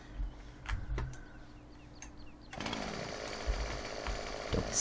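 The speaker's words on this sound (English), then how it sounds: "for the couple of seconds it takes us with ye old chainsaw, let's just get on it" A chainsaw in Farming Simulator 17 starts partway through and runs as a steady buzzing drone at moderate distance, after quieter clicks and bird-like chirps.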